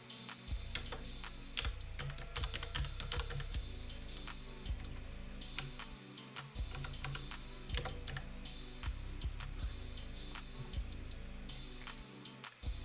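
Steady clicking of a computer keyboard while someone types out an email address, a rapid run of fine close key taps with brief pauses and no talking.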